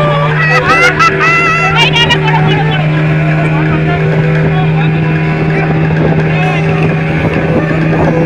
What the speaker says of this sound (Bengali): আমাদের স্পিড বোটের ড্রাইভার দাদা বেশ সুন্দরভাবে আমাদের স্পিড বোট রাইড করাচ্ছে।